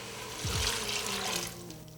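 A cup of water poured into a pot of red beans with onion and vegetable broth, a close steady splashing rush lasting about a second before tapering off.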